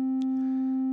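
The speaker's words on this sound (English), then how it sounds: "the micro brute is producing a sine wave" An Arturia MicroBrute synthesizer holds a single C note as a pure, steady sine tone, constant and clean for the whole second with no other sound.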